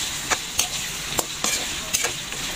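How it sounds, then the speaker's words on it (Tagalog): Bitter gourd fries in cooking oil with a steady close sizzle, while a utensil scrapes and taps the pan in sharp, irregular strokes roughly every half second. "naglagay naman ako ng mantika. Halu-haluin lang natin hanggang sa maging brown"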